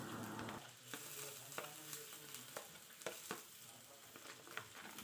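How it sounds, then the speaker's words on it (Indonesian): Crushed garlic sizzles and fries in a pan while being stirred, a steady broad hiss broken by several sharp scraping knocks of the utensil against the pan. "Kita tumis-tumis bawang putihnya hingga harum dan juga berubah warna"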